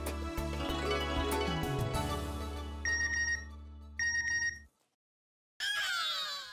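Phone notification tones for incoming bank messages in a home scene from a Taarak Mehta Ka Ooltah Chashma episode, short bright chimes repeating twice after music fades, then a rising tone at the end.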